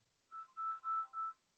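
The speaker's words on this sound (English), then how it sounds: "My phone's ringing" A phone rings with four short, evenly spaced electronic beeps, faint and clean against silence.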